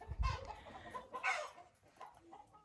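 Hens cluck in a chicken coop, a few short near clucks and squawks in loose bursts over a quiet background with no speech.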